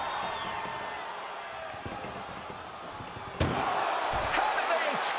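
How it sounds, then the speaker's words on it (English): A single loud slam of an ambulance door during a WWE Raw ambulance wrestling match, bursting through constant arena crowd noise while a commentator talks. "Trying to at least slam one door shut."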